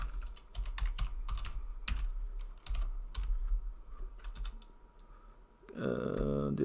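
Typing on a computer keyboard sounds as bursts of quick, close key clicks with short pauses between them, moderately loud, ending with a brief voice at the end.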